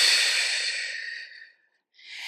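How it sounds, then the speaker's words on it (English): Deep breathing during a home Pilates workout: one long, close, audible exhale fading over about a second and a half, a brief pause, then the start of a fresh breath. "Breathe deep."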